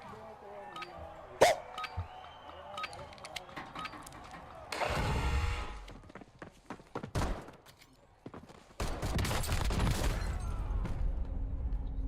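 Video game gunfire erupts in sharp isolated cracks early on, then gives way to two dense sustained bursts of rapid shooting with explosive low rumble, loud and close.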